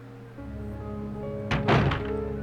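A door in the Resident Evil 2 video game opens with a solid thunk followed by a short rattling creak, heard over a steady low ambient hum.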